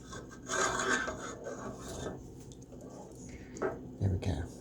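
A spoon scraping and stirring hamburger steak in brown sauce in a pan, rough rasping strokes in bursts, close and moderately loud with a few pauses between passes.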